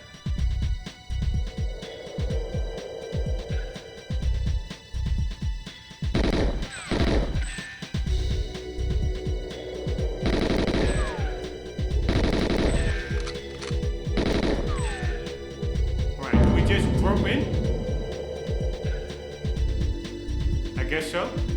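Gunfire from the video game GoldenEye XBLA comes in rapid automatic bursts and single shots with crashing impacts, interrupted by gaps, while someone talks over much of the action.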